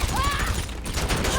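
Rapid bursts of police gunfire in GTA V, dense crackling shots over loud game noise, with someone talking briefly over the din.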